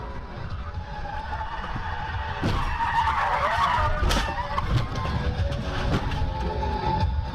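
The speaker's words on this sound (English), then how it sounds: "The driver behind the camera comes up very fast and switches lanes, loses control, and spins out, causing the collision with the camera" A car comes up fast, loses control and spins out on the road, tires skidding and squealing loudly for several seconds with sharp impact-like bursts as it crashes.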